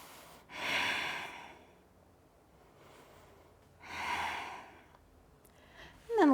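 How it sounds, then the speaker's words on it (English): Slow, deep breathing during a seated spinal-twist stretching exercise, two long airy exhales several seconds apart, close and soft with a quiet pause between them. "Breathing."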